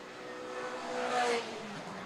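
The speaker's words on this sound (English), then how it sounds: "Is that a slower car coming through?" A race car passes on the circuit at Killarney Raceway during a Power Series round, its engine note swelling to a peak and fading away at a distance, with a faint voice underneath.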